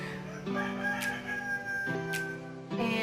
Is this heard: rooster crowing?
yes